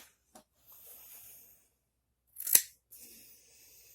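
Scissors freshly sharpened on a TSPROF K-02 scissor sharpening attachment cut through material, giving a faint early snip and then one crisp, louder cut in an otherwise quiet space.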